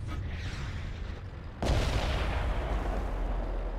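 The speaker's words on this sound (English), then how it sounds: "Just a quick shot there just to see if he's there" An FV304 self-propelled artillery gun in World of Tanks fires a single heavy shot partway through: a sudden loud boom that rolls into a long, rumbling tail over a steady background of battlefield noise.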